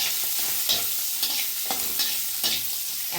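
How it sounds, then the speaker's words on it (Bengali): Shrimp fry with dried chilli in a hot pan, a steady close sizzle broken by regular scraping stirs, with no voices. "এই চিংড়িটা আগে ভেজে নিচ্ছি আমি। আর লঙ্কা, শুকনো লঙ্কা দিয়ে দিলাম"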